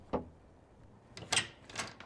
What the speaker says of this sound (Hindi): दस्तक हुई।